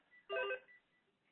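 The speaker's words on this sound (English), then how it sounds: "I've got a phone ringing." Telephone ringing, a single short electronic ring tone burst lasting about a quarter second, faint and thin with a slight echo afterward.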